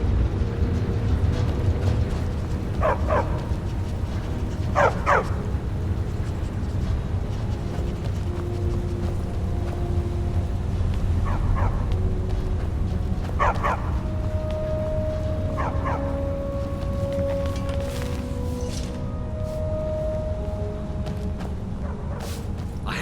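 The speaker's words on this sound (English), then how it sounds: "Don't mind the dogs. They get anxious when they haven't had dinner." Dogs in Skyrim bark and yip in scattered short bursts over a low, rumbling game ambience. The sharp yelps come every few seconds, and a faint tone drifts through the middle.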